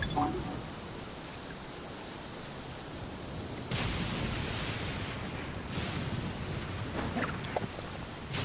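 Rain hisses steadily through a lightning storm in the video game Genshin Impact, with sharp thunder cracks breaking in partway through and a few more crackling bursts later, loud and close over the constant downpour.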